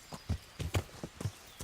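Horse hooves clip-clop in Kingdom Come: Deliverance, a walking rhythm of about six close, moderately loud steps with short gaps between them.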